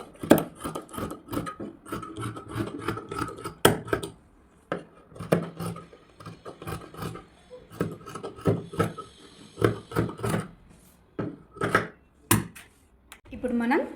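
Net fabric for frock sleeves is cut with scissors in a run of sharp, irregular snips and rustles, close up, with talking in between the cuts.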